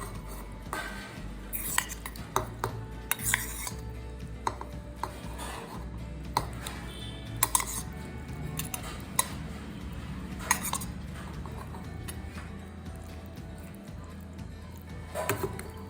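Marinated shrimp folded into a coconut spice paste for Bengali chingri bhapa, with steady clinks and scrapes of a utensil against a metal bowl and occasional sharper taps, close and moderately loud, no talking.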